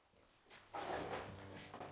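A wooden drawer slides open in an abandoned Italian house, a short scraping rub with a light knock, close and fairly quiet in a still room.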